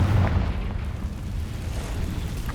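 A Confringo blasting spell in the Hogwarts Legacy video game erupts as a deep, sustained rumbling boom that holds loud and close across the whole moment, with no talking.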